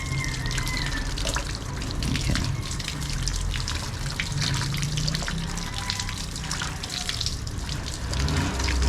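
Water runs and splashes over the air filter from a Ninja ZX-4RR motorcycle during a gentle wash, a steady close stream with drips and trickles throughout.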